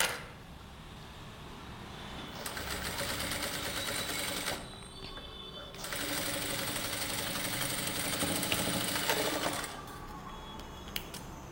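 Sewing machine stitching along a V-neckline edge of a garment, a steady mechanical whir running in bursts with a brief pause in the middle, close and fairly loud.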